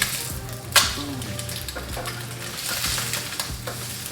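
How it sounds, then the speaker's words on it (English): Eggs fry in a hot pan for a high-protein breakfast, a steady crackling sizzle with a sharp clink near the start and soft scraping or stirring touches, no speech. "The eggs cooking, we're gonna flip."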